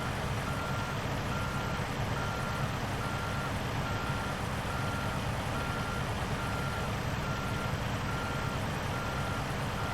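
A truck creeping slowly in reverse, its backup beeper repeating steadily over a loud, constant engine rumble and broadband road noise, close and unbroken throughout.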